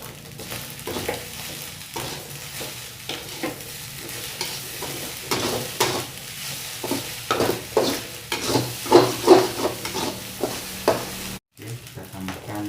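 Nasi goreng fried rice is stirred in a hot pan, a steady sizzle under repeated scraping strokes of the spatula that grow louder and busier toward the end, with brief faint speech.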